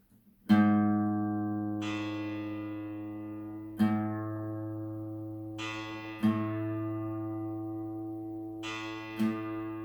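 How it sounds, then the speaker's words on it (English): A single guitar string, the A (5th) string, is plucked four times during tuning, each note ringing out and slowly decaying, with small pitch adjustments between plucks. "So now I'm going to move up to the 5th string, the A string."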